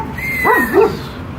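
A dog racing outdoors gives two quick, high, yelping barks with a whiny, rising and falling pitch. The cries are close and loud, with a quiet background.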